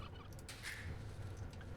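Turkeys gobbling in a video game, a short burbling gobble call rising over low steady background hum, no talking.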